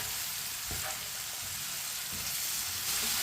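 Okra cooking in masala over a medium-low flame, a steady loud sizzle with occasional spoon scrapes and stirring sounds running throughout.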